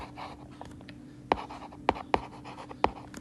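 Pen scratching out a math solution by hand during a class 9 lesson on recurring decimals, a soft continuous scribble marked by four sharp taps as strokes land, close and fairly quiet.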